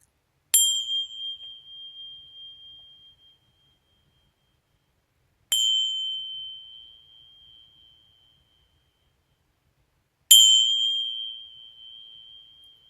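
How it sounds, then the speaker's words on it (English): A chime is struck three times to open a prayer, each bright metallic ping ringing out and fading slowly into silence before the next one sounds, spaced about five seconds apart. "chime here to start our prayer"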